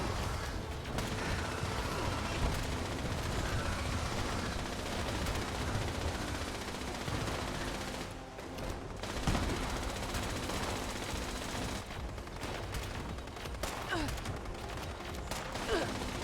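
Sustained gunfire from the video game Fallout 76, dense bursts of automatic fire and shots layered over a busy game soundscape, continuous and fairly loud throughout with brief dips.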